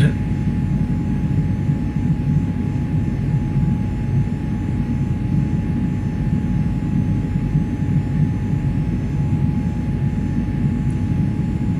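Steady, loud droning of airliner engines in the X-Plane 11 flight simulator, a constant low roar with a faint tonal whine that never changes.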